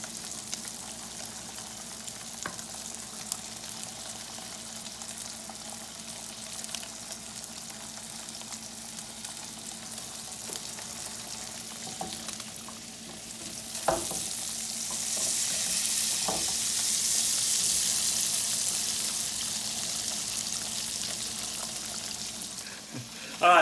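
Tilapia fillets and scallops sear in a hot pan with a steady, close sizzle that grows louder partway through, broken by occasional clicks and taps of a utensil.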